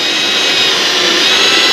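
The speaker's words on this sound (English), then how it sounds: "All I'm going to do is line up my drill bit with the center of my yellow dot, which marks the center of the" A drill bores through a spot weld on a 2002 Ford F350 body panel, a steady, loud, high-pitched whine and grinding hiss that holds constant throughout with no pauses or voices.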